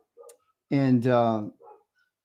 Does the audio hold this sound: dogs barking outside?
yes